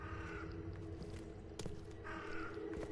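A crow caws a few times in the horror game The Sinking City, harsh calls over a low ambient background with no talking.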